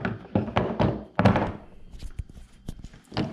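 A Springfield XD-9 pistol slide is worked off its frame during cleaning, giving a run of close, dull knocks and clicks followed by softer handling noises.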